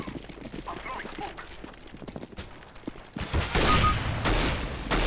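Gunfire in the game CS:GO, a burst of rapid shots building into loud, dense firing toward the end, over background game noise with no talking.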